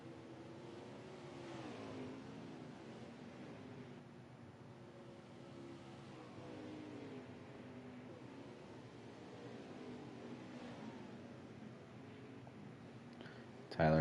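Race cars at a Ruthless Racing Legacy Series race at Canadian Tire drone steadily at a distance, engines rising and falling as they circle the track, with a commentator's voice over the top.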